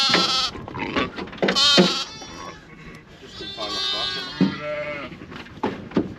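Lambs bleating repeatedly in a lambing shed, loud, close cries in short bursts, with a voice speaking between the calls.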